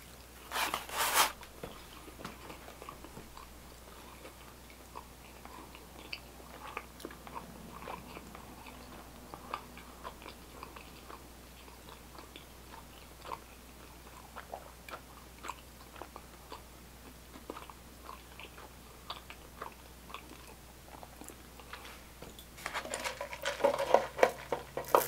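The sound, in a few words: chewing Papa John's Pepperoni Crusted Papadia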